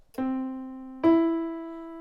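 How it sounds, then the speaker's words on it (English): Two sustained instrument notes a minor third apart sound one after the other, the second slightly higher and louder, each ringing clearly alone in a quiet setting. "So a minor third is minor because it's smaller than the major third"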